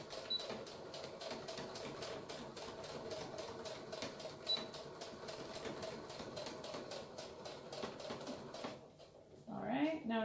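A home sewing machine stitches a pleat in a one-piece fabric face mask, giving a fast, even needle chatter that runs steadily and fairly near, then stops near the end as a few soft handling sounds follow.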